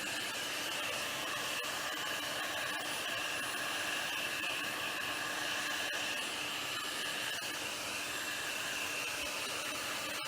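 A fan runs steadily, blowing resin across a 3D plate with an unbroken airy rush and a faint whine. The sound stays close and even throughout, with no voices.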